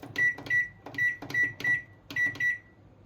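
Six short electronic beeps from an oven's control panel as it is set to grill for 20 minutes, each beep clear and near, coming in irregular pairs and singles with button clicks between.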